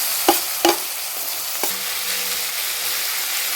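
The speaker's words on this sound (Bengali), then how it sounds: "আলু পেঁয়াজটাকে তেল দিয়ে সামান্য লাল লাল করে ভেজে নেব।" Slit green chilies, chopped onion and potato frying in hot oil in a pan, a steady loud sizzle broken by a few sharp stirring clatters near the start, with no talking.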